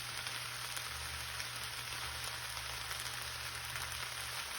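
Blackened okra fries in a pan with a steady, even sizzle that crackles on without pause, alone over a faint low hum.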